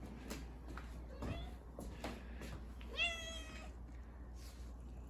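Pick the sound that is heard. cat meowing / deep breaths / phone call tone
cat meowing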